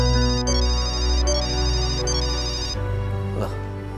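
A phone rings with an incoming call, a repeating bright electronic trill in short bursts over a steady musical drone, stopping about two thirds through as low background sound continues.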